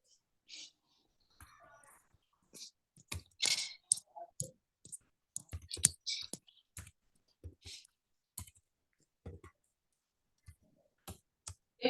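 Computer keyboard keys clicking in irregular bursts while someone types Java string-method code, close and fairly crisp, with brief pauses between runs of keystrokes.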